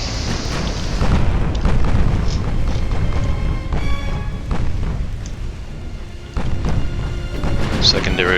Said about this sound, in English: Secondary fire eviscerating this guy, he's gone